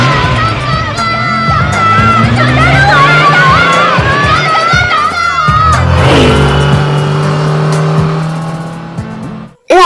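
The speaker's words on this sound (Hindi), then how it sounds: "तुम बहुत तेज कार चला रही हो, धीरे चलाओ" A car is driven hard, with a loud, close engine that revs and shifts pitch throughout, tires hissing. Dramatic music with sustained tones plays over it, and the sound cuts off abruptly at the end.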